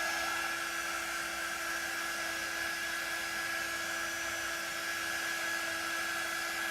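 A dryer blows on wet white chalk paste spread over a stencil craft, giving a steady, continuous whirring hum with a thin tonal whine from start to finish and no voices.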